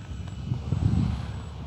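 Arrows Trekker 1.2m RC plane cruising at low throttle, a steady electric motor and propeller drone with wind rush, continuous and moderately close throughout.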